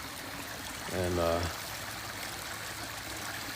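A small outdoor stream flows with a soft, steady rushing wash throughout, briefly interrupted near the start by a single short spoken word.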